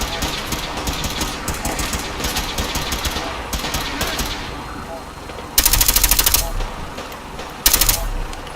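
A companion shoots at a Mister Gutsy robot in Fallout 4 amid steady mechanical game noise, with two short rapid bursts of gunfire standing out near the end, and speech is heard over it.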